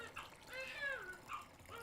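Hot water pours into a baby bathtub with a soft, continuous splashing flow, quiet and close.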